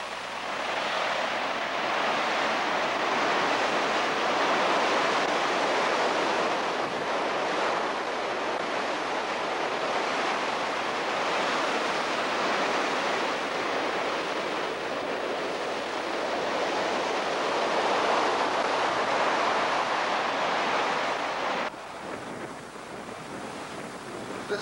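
Ocean surf rolling onto a beach looking out toward a cape near Point Granville, a broad continuous wash of breaking waves with wind buffeting the microphone, steady and loud throughout.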